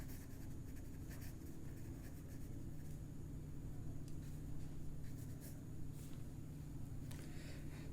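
Handwriting with a pen or marker goes on in short, faint scratching bursts over a steady low hum and rumble in a quiet room.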